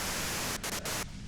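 Radio static in Disco Elysium: a loud, dense hiss of white noise that briefly drops out a few times and thins near the end.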